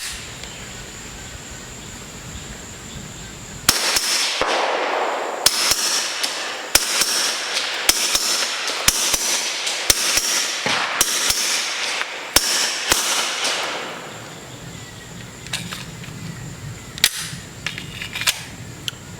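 An IWI Masada Tactical handgun fires a rapid string of about a dozen sharp, loud shots in uneven quick rhythm outdoors, then a pause and a few more isolated shots, with faint insect chirping in the background.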